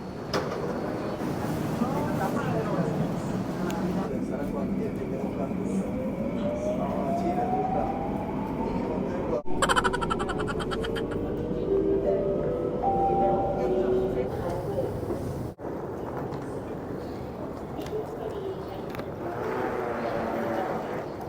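A Singapore MRT train runs at Expo Station, with a steady rumble, whining pitch sweeps and squeals as it moves, while people talk nearby throughout.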